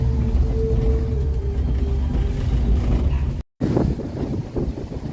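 Car cruising along a highway in the Philippines, with a steady rumble of road and engine noise and heavy wind buffeting the microphone, broken by a brief dropout.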